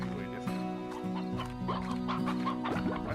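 Chickens clucking in the farming game Slime Rancher, a few short repeated clucks over a steady electronic music bed.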